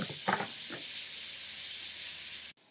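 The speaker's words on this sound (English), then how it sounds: "And then I'm gonna add in the ground beef. And I'll let that brown up." Ground beef browning in a pan over an onion and shallot mixture, a steady close sizzle and hiss that runs throughout with a few soft clanks near the start before cutting off abruptly.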